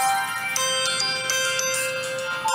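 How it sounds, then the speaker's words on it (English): A phone rings with an incoming call from Mom, a loud, steady electronic ringtone melody with bright sustained tones that repeats throughout, alone without talk. "Here comes a phone call"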